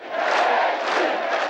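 Large crowd cheering and shouting outside the Russian Parliament building in Moscow, a dense sustained roar of many voices from some distance.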